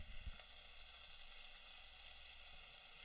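Burger patties fry in a pan with a constant quiet sizzle, an even hissing texture with a faint low bump near the start.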